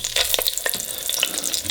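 Oxtails fry in hot oil in a pan, giving a steady, close sizzle dotted with sharp pops and crackles throughout.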